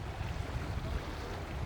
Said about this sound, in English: The wind is kicking up again.